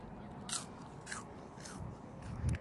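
Someone bites into crunchy chrumky snack puffs, giving a few separate close crunches spread over a couple of seconds with a louder bite near the end.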